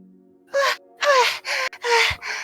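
A person breathing hard and gasping after pushing back into a room, a string of loud, strained breaths and moaning gasps with short pauses between them, close and alone.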